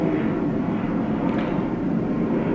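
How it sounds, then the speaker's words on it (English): An airplane passes overhead at night on a warm, muggy Indianapolis evening, heard as a steady broad distant rumble that holds level throughout. "I love the sound of planes flying over"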